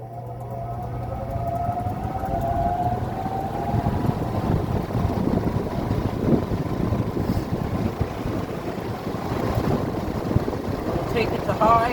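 A 40-inch Maxx Air Pro Flex drum fan with a new belt runs on its low setting, a steady broadband whoosh of moving air with a low hum beneath it.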